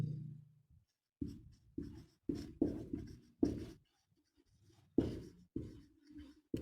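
Chalk or marker strokes on a classroom board come in short, scratchy bursts, roughly a dozen taps and drags over several seconds, close and fairly quiet in an otherwise still room.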